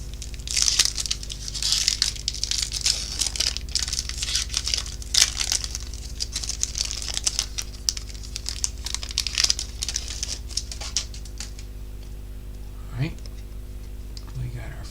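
A Topps baseball card pack wrapper crinkles and tears in dense, rapid bursts close up for about twelve seconds, then goes quiet, with voices speaking briefly.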